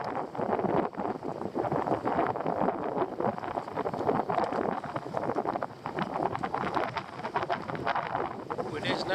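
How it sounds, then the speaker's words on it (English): Blustery wind at a Scottish loch during a pike fishing session, a steady broadband rush buffeting the microphone for the whole stretch, with speech-like murmurs faintly mixed in. "Wind's getting up a bit."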